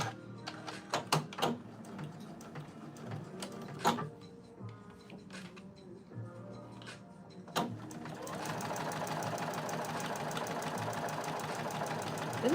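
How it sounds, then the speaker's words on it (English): A sewing machine stitches down the sides of fabric, first with scattered clicks and handling knocks, then running in a steady, continuous mechanical whir. "now I'm gonna stitch the sides the whole way down"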